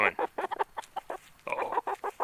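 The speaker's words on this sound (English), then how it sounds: "Oh, big red chicken, come here." A big red chicken clucks close by in a quick series of short, choppy calls, loud and clear with no voices over it.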